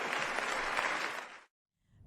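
Packed crowd in Chicago giving Mayor Brandon Johnson a standing ovation as he leaves, with dense, steady clapping and cheering that holds loud for about a second and a half, then cuts off abruptly before faint noise returns.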